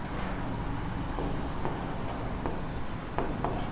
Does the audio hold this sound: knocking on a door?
no